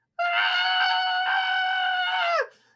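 A single long, loud scream from a fleeing character in a fantasy audio drama, sustained and high-pitched for about two seconds before trailing off.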